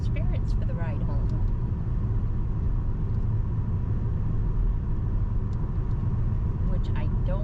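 A car drives along a road at night, with a steady low road and engine rumble filling the cabin continuously and faint voices inside.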